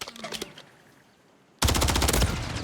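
Gunfire in a competitive Call of Duty match: a quiet lull, then a sudden loud sustained burst of rapid automatic shots close by, continuing to the end.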